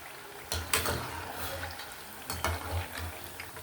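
Bellam gavvalu, jaggery-coated dough shells, frying in hot oil with a steady crackling sizzle, broken by a couple of clanks and stirs from a slotted spoon.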